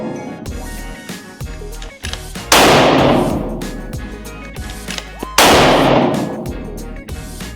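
Two loud, sharp rifle reports from a Bergara Premier Divide in 6.5 Creedmoor firing 140 grain Hornady match bullets, each cracking hard and then rolling away in a long echo, set apart by a few seconds.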